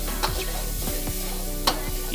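Red chili sambal balado paste frying in a little oil is stirred in a pan, with soft sizzling under repeated scraping strokes and a couple of sharper utensil clinks, close and without talking.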